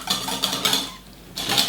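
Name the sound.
whisking a parmesan mixture in a bowl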